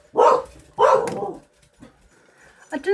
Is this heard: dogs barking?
yes